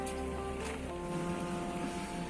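Water splashes steadily from a pond filter outlet into a minimalist koi pond, a continuous rushing gush close by, with no voices.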